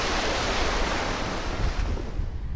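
Ocean waves at a Sapphire Coast beach wash in loudly and continuously, a dense, close surf roar with some wind buffeting the microphone, easing slightly toward the end, no voices.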